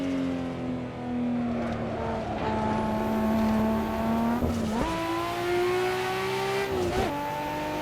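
Nissan Skyline GTR R34 in Assetto Corsa, engine droning steadily through the gears with two sharp shifts where crackling pops and burbles break through, close and continuous.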